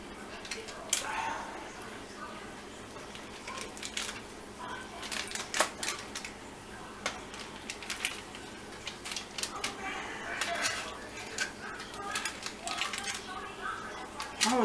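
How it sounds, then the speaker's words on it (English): Pork chops being turned in a hot pan, sizzling steadily with scattered sharp clicks and taps of utensils against the pan, heard close up throughout. "I'm gonna turn the pork chops around."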